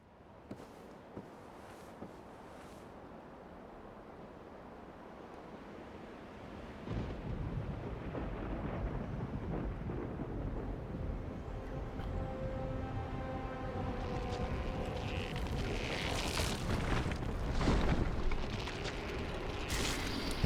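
A lightning attack in Dark Souls crackles and rumbles, swelling from a low, quiet start into a sustained, dense roar with sharper bright bursts near the end, with no talk.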